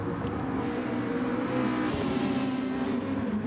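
A naturally aspirated Nissan race car in a racing video game holds a steady, dense engine drone at high revs throughout, loud and continuous without any pause.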